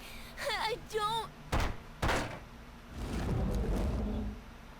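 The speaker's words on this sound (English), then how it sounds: "A door." A heavy door slams in Zero Escape: Time Dilemma, producing two sharp loud thuds about half a second apart after brief voiced sounds, followed by a rumbling scrape; near and distinct.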